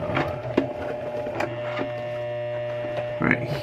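A home sewing machine slowly stitches through the corner of a Longchamp handbag during a repair, giving a steady mechanical hum with soft, irregular clicks and knocks of the needle, close by.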